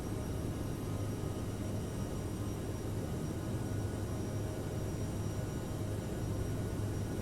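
An Aerosoft CRJ700 jet climbs after takeoff in Microsoft Flight Simulator 2020, a steady broadband engine roar with a low drone holding even throughout, no voices.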